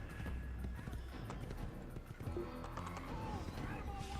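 A horse's hooves clip-clop along at a steady pace in Assassin's Creed, heard under continuous game sound and busy background noise, with a brief whinny-like sound and someone talking over it.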